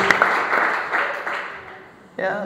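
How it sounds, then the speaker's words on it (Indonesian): A church congregation breaks into a dense wash of applause that fades over a couple of seconds, then swells again briefly at the end. "Beri tepuk tangan terbaik buat Tuhan Yesus."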